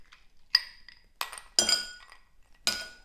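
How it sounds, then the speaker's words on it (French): Three ice cubes clink one after another into a glass of homemade tepache on a hot day, each drop a sharp, bright glassy chink with short ringing tails, close and clear with no talk. "On va y mettre aussi des glaçons parce qu'il fait super chaud."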